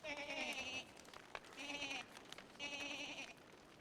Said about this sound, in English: Do Volt Goats, like, repopulate?